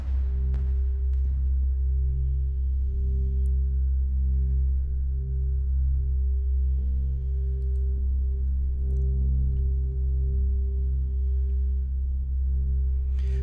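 A granular synth drone sustains one low C2 note with slow shifting motion and faint high flickers, steady and alone for the whole stretch.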